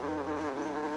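A housefly buzzing close by, a continuous loud whining drone lasting about a second with a slight shift in pitch midway.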